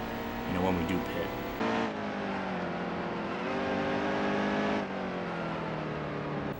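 A racing truck engine in the NASCAR Heat 2 game holds a loud, continuous high-pitched whine, with rising and falling pitch through gear changes and a voice talking over it.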